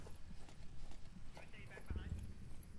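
Soft, quick footsteps in the VR shooter Onward during a competitive league match, faint rhythmic taps sitting under continuous commentators' talk.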